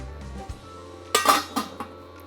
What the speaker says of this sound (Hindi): इसको लगाते हैं ढक्कन